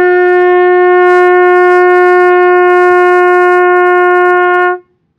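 A trumpet holds a single brassy open G note, steady and loud for nearly five seconds, then cut off cleanly.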